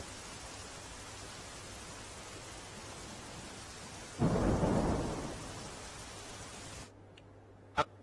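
Steady heavy rain hisses for several seconds in Veraval, Gir Somnath, Gujarat, with a brief louder rumbling surge midway before the downpour quiets and a sharp click ends it.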